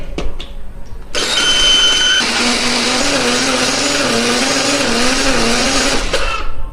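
A blender whirs loudly and continuously as it grinds cooking spices with oil, its motor steady for about five seconds after a brief start-up, preceded by a few soft clicks.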